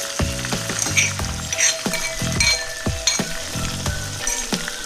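Butter with green chili and garlic sizzles steadily in a kadhai for paneer bhurji, with repeated scrapes and stirring strokes of a spoon against the pan in a close, busy rhythm.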